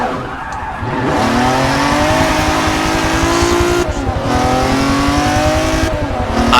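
A Ferrari engine revs loud and hard in a racing video game, holding a high strained pitch as the tires break traction and squeal, with two brief dips where the revs drop before climbing again.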